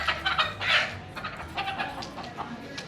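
Chickens cluck and murmur nearby at a homesteading conference class in Tennessee, producing a few irregular bursts of clucking over a busy outdoor background.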